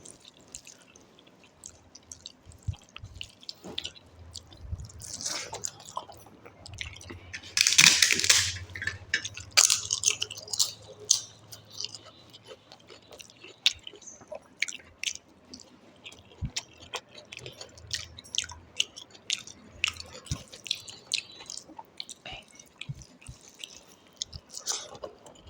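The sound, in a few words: person chewing food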